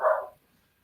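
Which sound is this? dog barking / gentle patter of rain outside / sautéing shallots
dog barking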